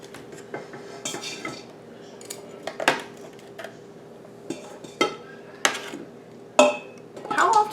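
Roasted beef bones are handled and dropped into an Instant Pot, making a series of irregular clunks and clinks of bone against metal, close by, with quieter rustling between them.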